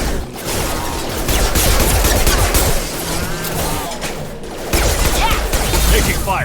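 Gunfire from Mass Effect 2 rattles in dense, continuous bursts under a mix of combat effects and game music, loud and sustained throughout.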